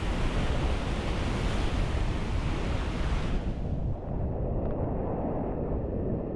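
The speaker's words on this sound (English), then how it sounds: "The swell's picked up a little bit as that tide comes in." Ocean swell and surf rolling in on a rising tide at a rocky fishing spot, a loud continuous roar of breaking water close by that eases slightly partway through, with no voices.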